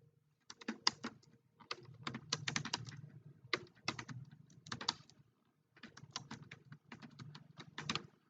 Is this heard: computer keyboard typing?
yes